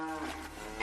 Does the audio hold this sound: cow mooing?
yes